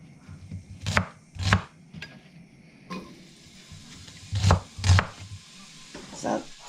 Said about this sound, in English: So I'll crack on dicing my onions so that they can go in the pan.